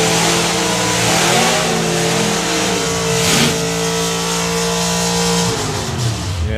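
Drag racing cars, the Frankenstein Chevy and a Volvo, rev loudly at a drag strip, with sustained droning engine tones that shift pitch and overlap, close and without pause.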